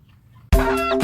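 Newly hatched Bangkok chicks, part of a brood of ten that hatched the day before, break a short silence with a sudden, close, loud burst of high chirping that fills the last half second.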